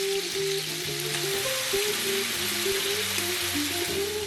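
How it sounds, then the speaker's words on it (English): Seasoned beef browns in a pan, giving a steady, close hiss of frying with crackling pops and a few low knocks underneath, continuous and without talk. "season your beef with salt, pepper, and garlic, and then brown it on all sides"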